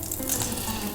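Fennel sears in a hot pan with a steady, dense sizzle, close and continuous, with no voices over it.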